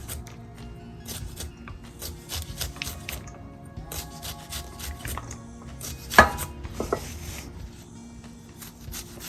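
A knife chops through green potato stems on a cutting board, with irregular clusters of crisp taps and thuds, and one sharp louder strike partway through.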